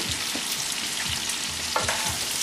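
Chopped green peppers and onions fry in a pan with a steady, loud sizzle and the occasional scrape of stirring, and nobody speaks.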